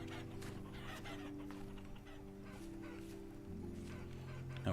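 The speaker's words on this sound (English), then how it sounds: "He's got a little bit of a chicken problem going on in here." Chickens cluck and squawk steadily in the survival game Vintage Story, a busy flock of fowl heard close by throughout, with a dense layer of steady game ambience underneath.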